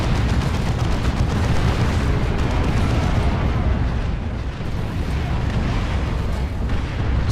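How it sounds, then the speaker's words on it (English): An artillery barrage hits in Warhammer 40k Dawn of War II Chaos Rising, heavy booming explosions rolling into one another in a continuous loud, low rumble with scattered sharper blasts. "Barrage incoming!"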